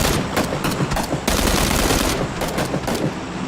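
Automatic gunfire in PUBG aimed at a buggy's tires, loud sustained bursts of rapid shots with a short pause between volleys, close and dominant.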